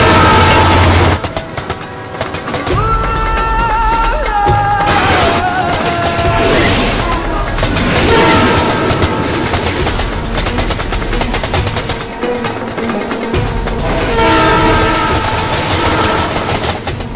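A train from a movie scene at a border crossing, rumbling loudly and steadily with clattering and rolling noise, a horn-like tone sounding over a busy mix for the whole stretch.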